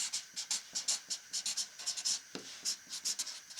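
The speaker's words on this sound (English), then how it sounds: "All right, I'm going to write this up here." Pencil or marker writing on wood before carving a sports bear, a rhythmic series of quick scratchy strokes, close and fairly quiet, with no talking.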